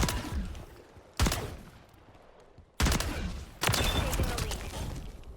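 HRM9 fire from a video game, loaded with tracer rounds: three sharp bursts of rapid shots, the later two running longer and louder, with quieter gaps between.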